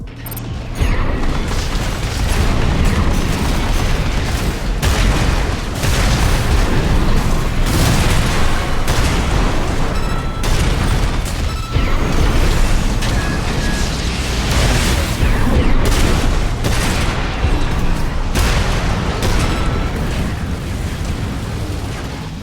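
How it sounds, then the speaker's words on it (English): Splitting missiles burst in a mech combat game, Armored Core VI, a dense, continuous barrage of loud booms, pops and mechanical clatter layered over one another with no pause. "I also like these missiles in particular because they split, so it's a lot of pressure."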